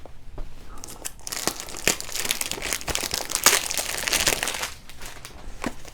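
Crinkling and tearing of packaging as a Valentino perfume box is cracked open, with sharp crackles and rips recurring across the clip, close and fairly loud, and no talking.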